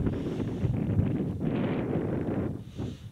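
Tailwind buffets the microphone while cycling across the Salar de Uyuni salt flat, a steady low roar of wind noise with gusty swells and brief lulls near the end.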